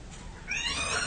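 A startled cat lets out a short, sharp meow in a radio horror drama, the cry rising suddenly midway and ringing out close and alone with no talking.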